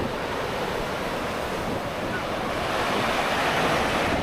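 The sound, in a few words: large ocean waves breaking on a Philippines beach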